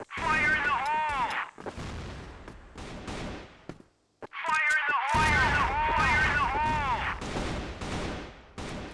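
Grenade blasts and gunfire from the video game CrossFire during a CFSI 2020 esports match: two bursts of rapid, ringing shots and booms separated by a brief lull, with a caster's voice talking over the action.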